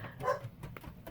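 Several dogs bark at someone arriving outside in the dark, giving a few short, moderately distant barks and yips in quick succession against a quiet background.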